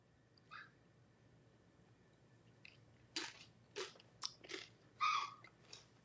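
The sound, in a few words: eating crunchy chips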